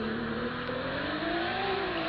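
A car drifting, its engine held at a steady high rev with a rising whine, loud and continuous throughout with no pauses or talk.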